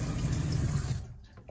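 Hot water runs from a walk-in shower in a camper van, a steady close hiss of spray for about a second before cutting off into quiet.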